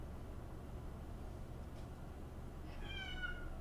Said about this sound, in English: Cat, why are you interrupting my stream?